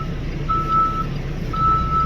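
A delivery truck's reversing alarm beeps twice in a steady rhythm, close and clear over a low engine rumble.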